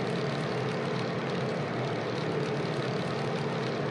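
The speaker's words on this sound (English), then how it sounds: "the Grumman. It's just a really sweet aircraft to fly around in." A Grumman aircraft's propeller engine drones steadily in a flight simulator game, a continuous broadband roar with a faint tonal hum and no variation or talk throughout.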